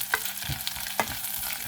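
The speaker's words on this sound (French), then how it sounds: "Vous sautez tout en même temps parce que ce plat" Beef, onions and rice vermicelli stir-fried together in a hot pan for bo bun, a steady sizzle broken by a few close scraping strokes of the spatula, with no voices.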